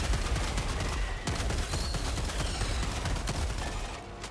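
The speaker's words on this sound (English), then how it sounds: "This shotgun is just so good." Rapid bursts of shotgun fire from Helldivers 2, loud and dense, blasting again and again through about four seconds of chaotic in-game combat noise with no talking.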